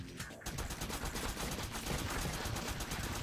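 Rapid gunfire in the top-down shooter game Crimsonland, a dense, steady stream of loud shotgun and weapon blasts that carries on without pause and fills the whole stretch.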